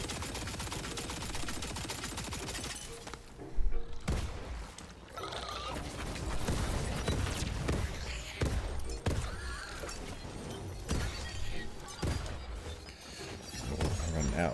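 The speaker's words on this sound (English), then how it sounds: "A few more shots there." Rapid bursts of gunfire in a video game, a no-gear DLC run at Shattering Spectreglass, with repeated sharp shots and fusillades over a dense game soundscape, fairly steady and continuous.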